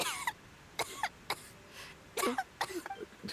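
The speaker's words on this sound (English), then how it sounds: "How long have you had that cough" Several short, sharp coughs come in separate bursts, closely miked and fairly quiet, from a character in a Genshin Impact game scene set in Snezhnaya.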